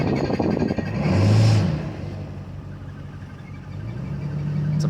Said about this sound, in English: Listen to that four-wheel drive.